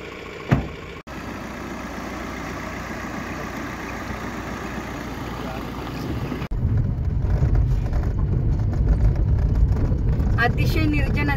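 A car engine idles nearby in a quiet, deserted roadside spot, a steady low rumble that grows louder and fuller partway through as if the door opens or the engine revs, with people talking over it.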